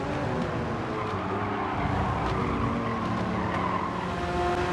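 A fully upgraded Porsche 911 race car in Gran Turismo 7 holds a loud, steady engine roar alongside tire squeal and skidding during a race, with no talking.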